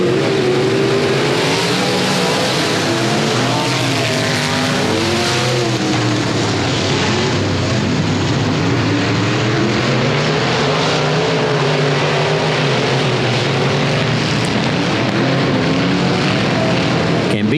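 Dirt-track race cars at Boothill Speedway roar on the throttle through the middle of turns three and four as racing resumes. Engines snarl loud and close for the whole stretch, with pitch rising and falling as they accelerate.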